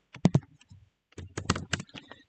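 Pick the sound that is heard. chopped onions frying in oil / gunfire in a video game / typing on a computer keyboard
typing on a computer keyboard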